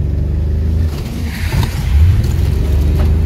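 A BMW E36 engine revving hard while the car drifts, a loud, close, throaty roar that holds steady and swells slightly near the end, with no speech.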